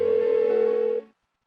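A telephone in Persona 4 Golden rings unanswered, one steady electronic tone held for about a second before cutting off into silence.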